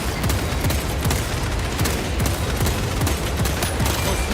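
Rapid bursts of rifle fire from a Stalker rifle in the video game Space Marine 2 crack repeatedly in a dense, loud rhythm of evenly spaced shots, with other combat noise behind.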